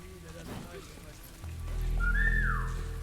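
A character in the WW2 real-time stealth tactics game War gives a short rising-then-falling whistle to lure a guard, heard over a low in-game rumble and ambient noise, with a voice talking earlier.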